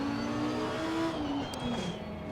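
A Grasser racing car rolling off at a launch event at the Nürburgring, its engine droning and then climbing in pitch as it pulls away, fairly close and steady over a low background hum.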